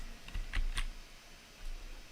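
Keys clack on a computer keyboard in a few quick, separate taps, close and clear against a quiet room, with no one speaking.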